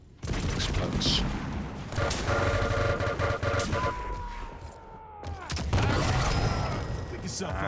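Explosions and rapid gunfire in a competitive arena-shooter duel match, loud bursts and cracking blasts tumbling over one another for several seconds, with a brief lull and a falling tone before more shots erupt.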